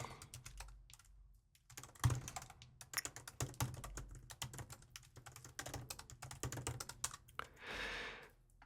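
Fingers type a test company name on a computer keyboard, rapid close clicking in uneven bursts with brief pauses, alone and quiet.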